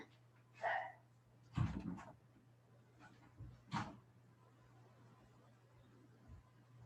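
A female dog left outside barks a few times at a distance, short separated yelps over a steady low hum, faint and sparse with quiet between.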